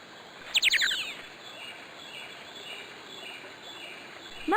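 Rainforest birds in The Magic School Bus video game: a bright burst of rapid chirps near the start, then quieter scattered calls over a soft steady background murmur like a stream.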